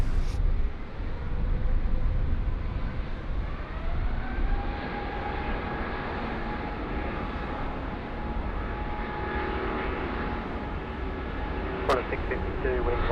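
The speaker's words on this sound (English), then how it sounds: "The A350, what a beautiful looking aircraft, all in proportion, about to depart here, runway 16 right" Airbus A350 jet departing runway 16 right at Sydney Airport at night, a steady, loud roar of jet engines that holds for over ten seconds, with a brief sharp click near the end.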